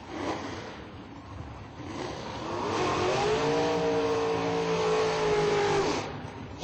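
Drag racing cars at a Union County IHRA Pro-Am event roar down the strip, the engine note rising and holding loud as they accelerate away from the line.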